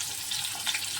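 Chopped tomatoes dropped into hot frying oil for onion chutney, giving a steady bright sizzle and crackle with a few sharper spits, heard close and alone.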